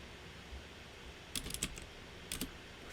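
Typing on a computer keyboard, quiet keystrokes in two short bursts, a quick cluster of several clicks followed by a briefer pair about a second later, over a faint steady room hum.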